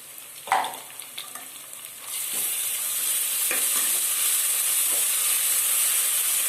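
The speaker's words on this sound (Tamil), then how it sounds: "இதை நல்லா சாட்டே பண்ணிக்கலாம்." Chopped onions and slit green chillies sauté in hot oil in a pressure cooker, a few sharp stirring scrapes at first, then a steady loud sizzle and hiss that carries on alone, close by.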